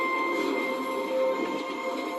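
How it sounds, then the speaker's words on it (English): A train rolls past on the adjacent track, a steady, close rumble with a bright metallic hum and some wheel squeal running throughout, no voices over it. "And the train came closer and closer and closer, and it went on the next track besides me instead of over me."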